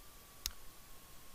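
A single sharp computer mouse click while drafting center lines in CAD software, one crisp tick near the start over a faint steady hum in a quiet room.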